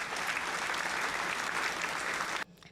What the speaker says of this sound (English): She always deserves to get a nice round of applause.